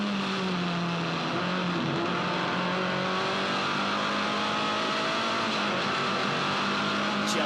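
A Formula Ford race car drives at Eastern Creek, its engine a loud sustained drone that holds steady with slight pitch shifts as it runs through corners, heard from on board with no clear talk.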